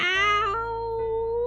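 A streamer's voice imitates a cat's meow: a single drawn-out, high, nasal meow lasting about a second and a half, close and clear, with the pitch dipping and then rising again toward the end.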